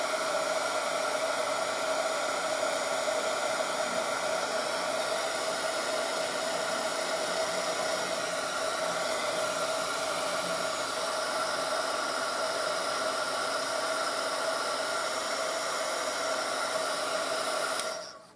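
A hair dryer blows hot air onto a small watercolor seascape painting, a steady loud whooshing hiss that runs unbroken for about eighteen seconds before cutting off at the end.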